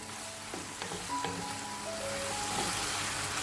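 Chicken gravy for butter chicken cooking on a high flame, a soft steady sizzle with a few scraping clinks of stirring, close and quiet, with no voices.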